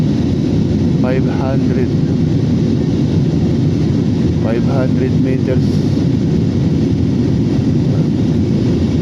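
Airliner on flight PR 2132 in the air, with a steady, loud cabin engine roar filling the whole stretch as someone speaks over it.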